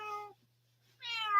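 A cat indoors gives two close, clear meows separated by a short pause, the second longer and rising, with nothing else heard.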